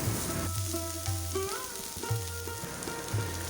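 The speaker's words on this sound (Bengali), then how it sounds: "গাজর দিয়ে ভালো করে নাড়াচাড়া করে নেব" Grated carrot sautés in half a spoonful of melted ghee in a pan for rabri pitha, a soft, steady sizzle under a tonal melodic sound.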